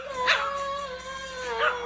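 A dog in a played video clip gives a drawn-out whining howl with two brief higher yips, heard clearly over a steady background.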